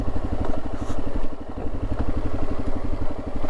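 A motorcycle on the Transamerica Trail climbs steep, rough terrain. The engine runs loud and close as a steady, pulsing drone with a fast, even beat. Faint clattering rises over it now and then, and no voices are heard.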